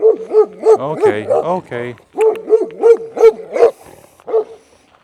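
Several dogs in a neighbor's garden in Portugal bark repeatedly and loudly at someone walking past, a rhythmic run of close, insistent barks with a brief pause, while a person speaks briefly over them.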